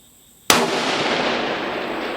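A 6.5 Creedmoor bolt-action rifle fires once with a sharp, loud crack that rolls into a long sustained echo; no distinct target impact at 1,000 yards stands out in the trailing reverberation.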